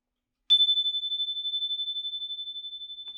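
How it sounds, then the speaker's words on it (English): A short physical chime struck once, giving a single clean metallic ring that sustains steadily with slow shimmering pulsation, close and isolated in a quiet room. "So let me hit the shorter chime now by hitting start."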